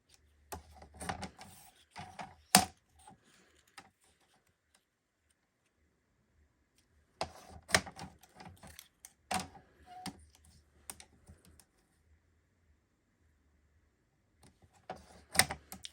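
Cardstock pieces are cut to 3.5 inches for card making, heard as close bursts of quick, dry clicking and scraping, with long silent gaps between the cuts.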